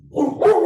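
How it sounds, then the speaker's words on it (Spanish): A puppy barks a few quick, bright yips close by, in two short bursts during a pause in a talk on Mexico's political system. "mi cachorro aquí también quiere participar"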